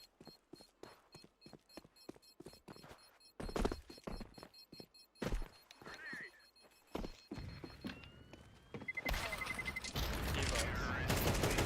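AK rifle fire cracks out during a professional Counter-Strike match, first as sharp single shots and short bursts, then building into a dense, sustained barrage of overlapping gunfire.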